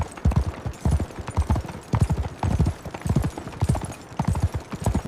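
Horses' hooves clip-clop steadily while pulling a cart, in a regular rhythmic trot of close, clear hoofbeats that repeats across the whole stretch, with no talking.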